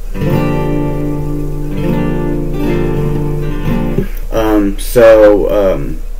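A guitar chord barred at the third fret is strummed and left to ring a few times, followed by someone talking briefly.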